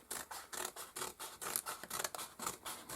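A torn parcel from the letterbox being cut open with scissors: a close, steady run of crisp snipping and scraping strokes in an even rhythm, with no voices.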